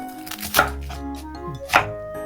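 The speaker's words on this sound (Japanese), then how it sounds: "じゃがいもはレンジでチンをするので細かめに切っていきます。" A knife finely chopping potatoes on a cutting board in a home kitchen, two distinct firm chops separated by quieter handling sounds, close and clear, with no voices.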